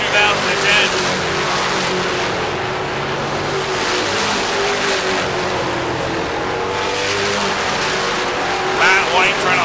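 Stock cars in an American Canadian Tour race roar past in a continuous, loud engine drone that swells and fades, with a commentator talking over it.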